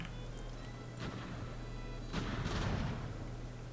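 Sailing-ship cannons fire in Ultimate Admiral: Age of Sail, giving a few dull booms, one early and a stronger rolling pair later, over a steady low game hum with no talk.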